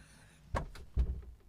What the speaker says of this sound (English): I can close the door just so